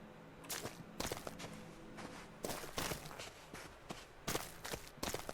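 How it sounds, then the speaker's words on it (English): Footsteps in the video game The Witness cross a maze area. The steps are soft, fairly faint and evenly paced, with a few brief pauses and no voices over them. "my footsteps are changing sounds, aren't they?"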